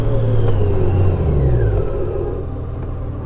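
A 2023 Honda Goldwing motorcycle under hard braking, its engine tone dropping in pitch as it slows, close and fairly loud with a rumbling low end and a fading whir.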